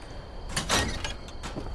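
A small hidden door in a video game slides open with a mechanical whoosh and a sharp clunk, followed by a softer rattle as it settles.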